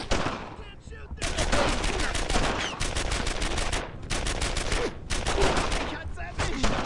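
Sustained bursts of automatic gunfire and rifle shots in the WWII shooter Brothers in Arms: Earned in Blood, dense and loud in repeated volleys, with shouted voices mixed under the shooting.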